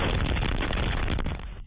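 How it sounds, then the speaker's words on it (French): Car bomb explosion at a California fertility clinic, heard from inside the building as a loud, sustained roaring blast that fills the whole clip before cutting off abruptly. "Au moment où cette puissante bombe a failli détruire la clinique de fertilité en Californie"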